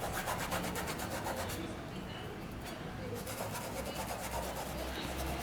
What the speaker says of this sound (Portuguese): eu venho esfumando, espalhando e esfregando